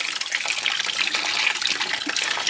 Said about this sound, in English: coolant draining out into the bucket, catching as much as we can